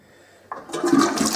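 A toilet flushes after a quiet start, its gurgling rush starting abruptly and building loud and close with no talking over it.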